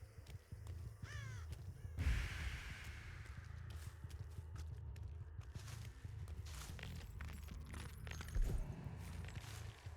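Crows caw repeatedly in the video game Epoch of Annihilation, steady calls over a busy, cluttered in-game soundscape with footstep-like thuds and scattered clatter.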